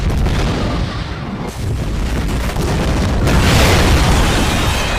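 Gasoline set off by gunfire in a mercenary action movie, a loud sustained explosive roar that rumbles and crackles for several seconds with a renewed surge of debris near the end.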